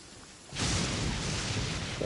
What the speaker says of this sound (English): Bit of lightning.